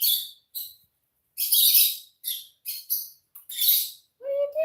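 Birds chirp outdoors in a series of short, bright, high tweets with brief gaps between them, fairly close and clear against silence. A lower chirping call closes the sequence.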